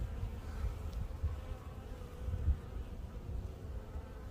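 Honeybees active around their hive on a fine winter day make a steady, close, low buzzing drone that carries on with no voices.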